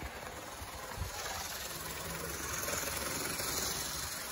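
A vintage Bachmann F9 diesel model train engine runs steadily after restoration, giving a faint, continuous motor whir and light mechanical hum with a small bump near the start and no voices.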